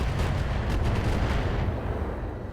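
Thumper artillery fire in the BattleTech game RogueTech: a loud, continuous rumbling barrage of deep booms rolling on for several seconds, with no talk.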